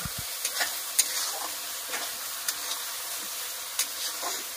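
Spice masala and onions stirred and frying in a pan for a beef-style meat curry, a steady sizzle with scraping stir strokes and occasional louder clinks, close and continuous with no talk.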